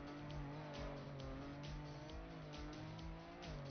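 A rally car in the Trackmania racing game drives with a steady engine roar and rising gear whine, with tire noise and skidding in the mix, continuous and close.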